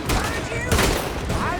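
Rapid gunfire in a Red Dead Redemption 2 shootout, loud bursts of shots crackling throughout with a heavier blast midway, under tense in-game dialogue and distant shouting.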